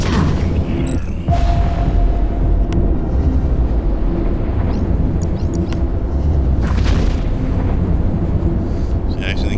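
A tower explodes after being destroyed in the Eve Echoes space game, a loud rumbling boom amid a dense, constant layer of battle noise and game effects that runs the whole time, with speech mixed in.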